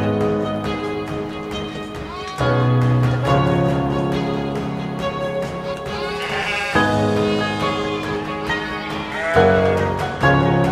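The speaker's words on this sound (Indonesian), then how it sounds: "Rudi harus menggembala beberapa ekor domba di luar kandang" Sheep bleat loudly and repeatedly near a small boy herding them outside their pen, with several overlapping calls, some young lambs three to four months old, and no pauses between cries.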